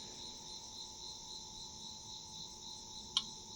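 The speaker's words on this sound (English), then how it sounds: "There's that little click" A single faint click from the slide control of a Cusimax 1500 W single-burner electric hot plate with a ceramic top, heard once near the end over a steady high-pitched background hum.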